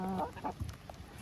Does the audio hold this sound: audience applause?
no